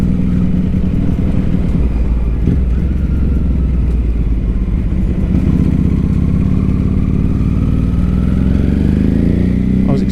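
A 2006 Ducati 749 motorcycle being ridden, its engine a loud, steady drone that continues throughout and climbs in pitch toward the end as it accelerates.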